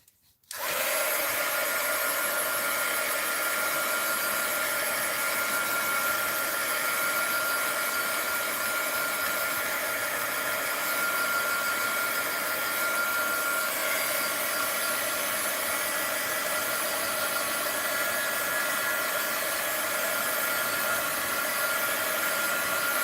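A hair dryer blows steadily on wet paint on an art journal page, a loud, continuous whooshing hum that switches on abruptly and runs unbroken to the end, with no talking.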